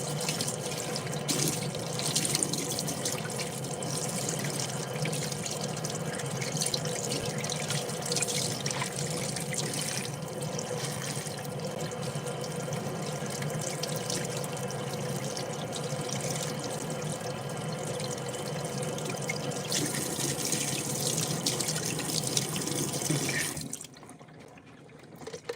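Water runs steadily from a tap into a sink during a final rinse, a constant near splashing flow that cuts off just before the end.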